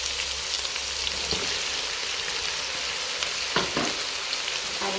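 Cabbage and cauliflower hit a hot pot of bean stew and sizzle loudly, giving a dense, steady hiss with a few stirring clunks, close up and without voices.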